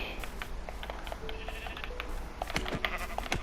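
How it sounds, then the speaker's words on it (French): Sheep in the video game Minecraft bleat in a string of short, repeated cries over a steady game background, moderately close. "Alors on a un petit mouton."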